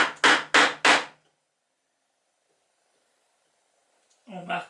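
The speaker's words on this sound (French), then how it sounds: "On trace d'abord les bords avec un ciseau large, côté plat à l'extérieur." A wide chisel is tapped to mark the edges of a wooden toy boat: three quick, sharp knocks close together, then a short stretch of near silence before a voice begins.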